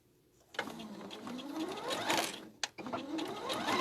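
A sewing machine runs in two bursts of stitching along a seam, whirring steadily at close range with a brief pause between runs.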